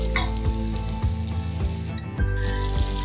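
Chopped onions for vegetable biryani sizzle and crackle steadily in a hot pressure cooker, with a few scraping stirs breaking the frying hiss.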